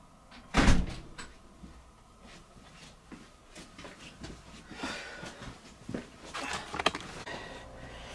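A back door opens with one loud, close thump, followed by softer rattles, creaks and scattered knocks as someone comes in. No one speaks.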